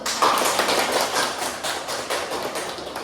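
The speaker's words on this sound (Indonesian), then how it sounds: "Kita kasih applause dulu" A room of students in a primary-school teaching-practice class claps together, a dense and fairly loud patter of many hands that holds steady and then eases slightly over a few seconds.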